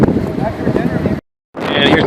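Strong wind gusts blast across a White Mountain summit, a loud, rumbling roar buffeting the microphone, cutting out to brief silence before surging back.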